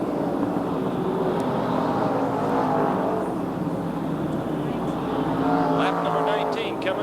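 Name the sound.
NASCAR Winston late model race cars lapping on the track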